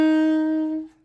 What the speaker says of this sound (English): you'll actually hear the C sharp blip through.